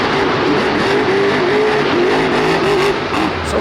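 Monster truck engine roaring steadily at a Monster Jam event in Houston during Armando Castro's freestyle run, loud and continuous with a sustained rumbling drone and slight pitch wavering throughout.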